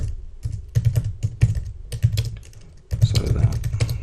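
Rapid bursts of typing on a computer keyboard, close and crisp, with irregular clusters of keystrokes, short pauses between words, and a denser flurry near the end while a user story is entered into a Jira project.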